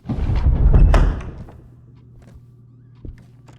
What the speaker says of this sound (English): you could hear just there a door closing